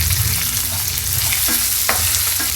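Shallots and dried red chillies fry for curry leaf chutney, a dense close sizzle filling the pan with a few scrapes of stirring, loud and continuous with no voices.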